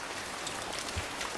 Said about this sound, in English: 비가 Rain. 주룩주룩 내려요. The rain falls down.